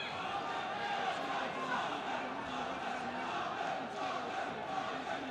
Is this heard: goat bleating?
no